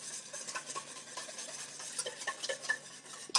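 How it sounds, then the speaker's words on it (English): A whisk beats infused olive oil and yogurt together in a bowl with quiet, quick, continuous clinking and scraping strokes, faint and close, with no speech. "we're just going to whisk that together"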